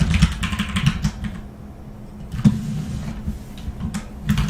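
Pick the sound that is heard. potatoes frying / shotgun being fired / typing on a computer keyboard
typing on a computer keyboard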